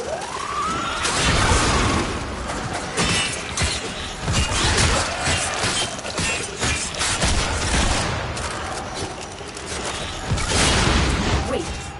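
A mechanical sentry in a video game destroys a pendulum, producing crashing, shattering impacts and rumbling mechanical noise amid a busy, continuous game soundscape with swelling tones.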